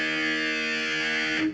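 Distorted electric guitar tuned to E flat, with the low E string being played. A single sustained, heavily driven chord rings steadily and loudly for under two seconds, then cuts off abruptly, no talking.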